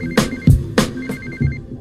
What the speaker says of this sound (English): She gets a call on her cell phone.